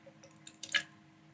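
Small rubber eraser fish shapes dropping into water in a graduated cylinder, a few soft, quiet plops and splashes in quick succession over a faint background hum.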